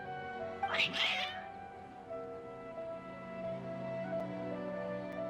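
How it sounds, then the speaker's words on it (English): Agitated cats in a video game meow and yowl in a loud burst near the start, then fade under a steady tonal game music bed. "Your cats seem pretty worked up."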